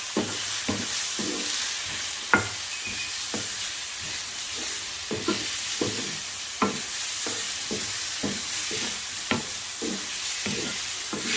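Freshly diced garlic sizzling in a dry pan with no excess oil, a steady crackling fry punctuated by frequent stirring scrapes and clacks at an irregular rhythm, close and moderately loud with no talk.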